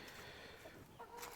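Chickens cluck and mutter nearby on a homestead, gathered where a wood duck is being cleaned, their soft calls steady under light outdoor background noise.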